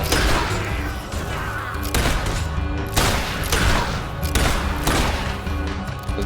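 Repeated gunfire in a fantasy video game battle, bursts of shots and impacts recurring roughly every second over a dense, continuous layer of game sound effects.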